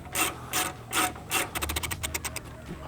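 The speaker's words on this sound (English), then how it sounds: "you use a 4mm Allen. And just tighten it all down" A 4mm Allen key tightens bolts on a Nissan Frontier rear fender liner kit: a few slow, rasping ratchet-like turns, then a quicker run of short clicking strokes, close and fairly loud.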